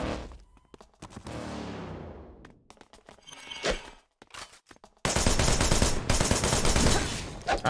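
Gunfire in the hack-and-slash shooter game Wanted: Dead, sharp bursts and rapid shots cutting in and out, then a dense, loud barrage of continuous fire in the final seconds.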